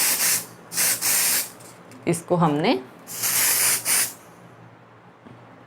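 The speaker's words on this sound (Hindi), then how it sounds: "अपनी हेयर स्प्रे की हेल्प से सेट कर दिया।" Hair spray sprayed onto styled hair to set it, several sharp hissing bursts in quick succession, close and loud, with a brief spoken phrase between them.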